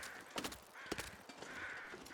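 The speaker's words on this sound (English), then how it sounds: "There's my crows." Crows caw in The Long Dark, giving several hoarse calls spaced irregularly over a faint wind-like hiss, distant and quiet, with no talking.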